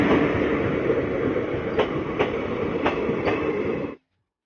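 The Ara Sasaram MEMU train at a station platform, a loud steady rumble of wheels and carriages with several sharp rail clicks, close by and with no talking, cutting off abruptly at the end.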